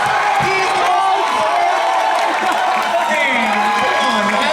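A loud, dense crowd cheers and whoops at an Anime Expo 2019 Street Fighter V cosplay event, a continuous roar close around with voices rising over it.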